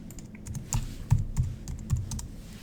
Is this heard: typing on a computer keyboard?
yes